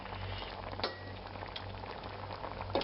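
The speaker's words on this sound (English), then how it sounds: "got it at a nice little simmer there" Meatball sauce for Yerevan meatballs simmers in a pot, giving a steady, close bubbling with soft pops and no talking.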